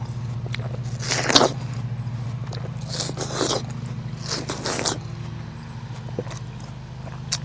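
Crisp bites into a sweet, thin-skinned home-grown Early Spring Red Jade watermelon, a few wet crunching bursts spaced across the moment over a steady low hum, close and clear.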